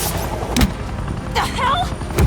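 Gunfire in the Batman: The Enemy Within video game, a few sharp shots ringing out over a noisy scene, with people shouting in between.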